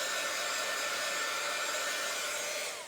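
A heat gun blows steadily over craft pieces on a table, a loud, constant broadband whoosh that holds nearly unchanged for about three seconds, with no voices over it.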